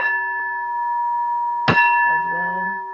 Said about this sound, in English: I'm just going to sound this singing bell as a way to help us clear our minds and relax